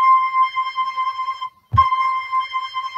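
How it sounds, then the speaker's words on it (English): A flute plays a sustained note C, steady and pure with a soft breathy edge, broken by a brief pause and a low thump before the tone resumes and holds. "But if I was to do that on a flute, the same pitch note,"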